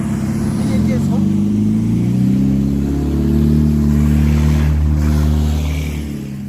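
A car engine revs hard and steadily close by, its low roar swelling and easing over several seconds with loud talk on top.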